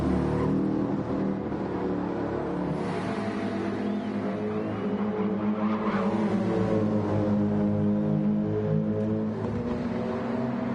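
Race cars lap Spa-Francorchamps in Gran Turismo 7, a steady loud engine drone with shifting pitch as several cars run the straight toward turn 5, continuous and unbroken.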